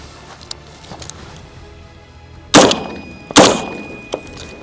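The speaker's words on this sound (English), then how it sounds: "Oh, we got a stoppage. Tap rack. Got a malfunction." A PSA Sabre-15 rifle has its stoppage cleared: a few small clicks, then two loud, sharp metallic racks of the action close by, followed by a lighter click.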